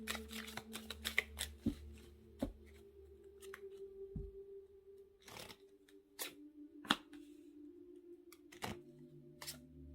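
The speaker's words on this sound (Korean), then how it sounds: "레노몬드 카드 5장 뽑아서" Lenormand cards being drawn and shuffled, giving faint papery flicks, slides and soft taps that arrive irregularly with quiet gaps between them.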